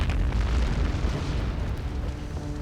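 A ship's powder store explodes during a naval battle, a loud sustained roaring blast with deep rumbling low end that stays dense and heavy throughout before easing slightly.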